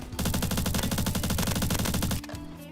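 The AUG submachine gun in Roblox Bad Business fires one long, rapid, evenly spaced automatic burst, loud and close, for about two seconds before cutting off into a quieter tail.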